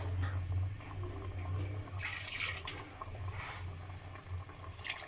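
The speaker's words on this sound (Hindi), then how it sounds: "ये थोड़ा सा मैं इसमें पानी ऐड कर रही हूँ।" Water splashes and gurgles as a small amount is poured into a pan of green chicken karahi, a close, steady liquid sound swelling midway over a low background hum, with no voices.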